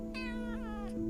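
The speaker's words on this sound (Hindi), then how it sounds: "और यहाँ पर मेरी बिल्ली आ गई" A pet cat lets out a single drawn-out meow with a wavering, falling pitch, close and clear against a steady background hum, with no talking.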